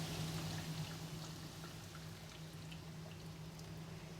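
Water mixed with pickling mix pours into a jar in a soft, continuous trickle, faint and close, with a low background hum and no talking.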